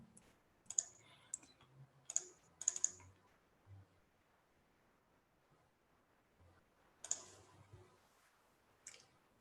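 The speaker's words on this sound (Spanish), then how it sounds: "Le doy clic en cargar y detectar XML duplicados" Clicks in accounting payroll software on a computer: several sharp, close clicks and keyboard taps in small clusters, separated by quiet gaps, with no talking.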